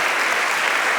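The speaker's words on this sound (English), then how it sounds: "a standing ovation from the crowd as well" A crowd gives a standing ovation at a London singing competition finale, a dense, steady wash of loud clapping filling the hall throughout.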